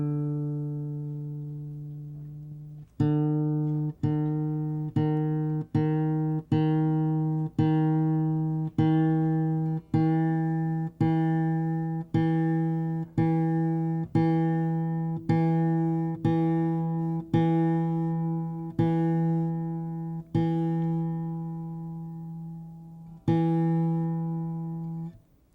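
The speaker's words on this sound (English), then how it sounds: "Then we're going to take your D string up to an E." Acoustic guitar D string plucked again and again at a steady pace while it is tuned up a whole step to E, each note ringing clearly on its own with no talking.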